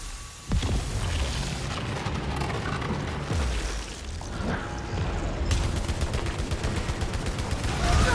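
Enemy gunfire rattles through the Returnal game in a dense, continuous barrage of close shots and booming impacts, loud and sustained throughout.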